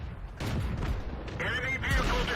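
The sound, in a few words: tank gun shot in video game World of Tanks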